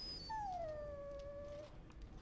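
A dog in a video game lets out a single drawn-out whimpering howl that slides down in pitch and fades, faint and alone, lasting about a second and a half.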